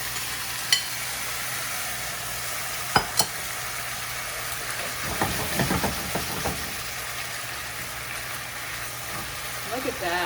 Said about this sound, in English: We're gonna add this marinade to create the sauce to this wonderful dish.